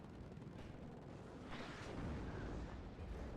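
In the video game Warno, a shot is fired at a tracked Rapier, giving a dense booming blast that swells and rumbles over steady battle noise, loud and close with a lingering roar.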